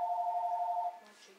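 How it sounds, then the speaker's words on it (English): A mobile phone rings with a steady electronic tone for about a second, then cuts off into quieter room noise and faint rustling. "Oh jeez, that's my phone."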